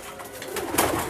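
A perkutut (zebra dove) called Mayoret Arma coos in a brief, steady call over a faint, airy background, with no talking.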